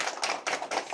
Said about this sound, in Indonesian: Aplaus untuk SDN Batas